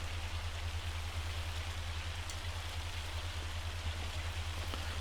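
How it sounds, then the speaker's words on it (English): Hail drumming on a bench during a storm in the farming game Farming Simulator 25, a steady dense patter with no pauses over a constant low rumble, moderately loud and unbroken throughout. "there's still some hail hitting it"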